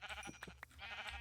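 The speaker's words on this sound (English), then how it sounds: "we got some sheep over here" Sheep in Minecraft bleat in a few short, quiet calls, a couple of distinct bleats in quick succession over a soft steady background.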